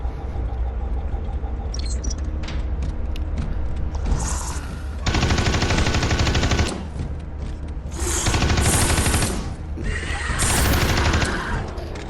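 A heavy weapon specialist's gun in Space Hulk: Deathwing fires in long, loud sustained bursts, with rapid rattling between volleys and mechanical clanks in the quieter gaps.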